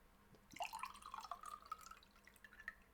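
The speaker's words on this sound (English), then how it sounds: "It's a good pouring noise." Dark Worm Salt soda poured into a glass, a rising liquid gurgle with trickling drips, close and quiet.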